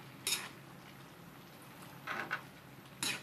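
A utensil scrapes and clinks against a pot while food is stirred, a few brief separate knocks over quiet background.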